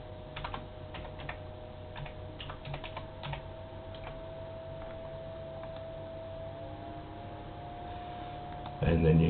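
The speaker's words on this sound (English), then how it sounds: "helps if I can type." Computer keyboard typing, a scattered run of soft clicks in bursts over a low hum, fading toward the end before a louder noise cuts in.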